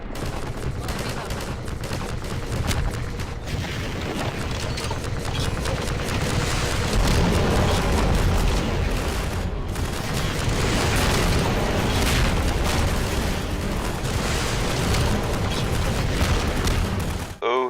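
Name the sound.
rocket launcher explosions against Striders in Half-Life 2, a video game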